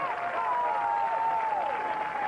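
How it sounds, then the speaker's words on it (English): A 1992 college football crowd at the Evansville Aces versus Adrian game roars steadily from the stands near the goal line, a sustained wash of cheering with faint whistling and no clear breaks. "Crowd gets into it."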